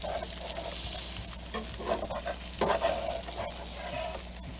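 A Monte Cristo sandwich with Gouda cheese sizzles in a frying pan as it is flipped, steady crackling frying punctuated by scraping and shuffling from the spatula, close and moderately loud.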